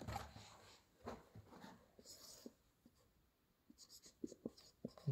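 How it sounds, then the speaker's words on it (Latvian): A pen scratches quickly across paper as notes are written by hand during an engine cylinder head repair, short uneven strokes up close with quiet pauses between bursts. "Pieraksta."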